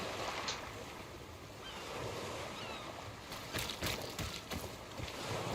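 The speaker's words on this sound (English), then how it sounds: "Holy waves." Ocean waves rolling in by the sea in the video game DayZ, a broad steady wash of surf and wind noise, with some louder splashing crests toward the end, no talk.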